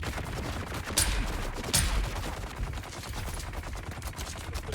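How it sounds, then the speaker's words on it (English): Gunfire in the video game Dune Awakening, with a rapid, steady stream of shots and two louder, sharper bursts standing out near the start, moderately loud with no talk over it. "Let's go ahead and shoot you in the head."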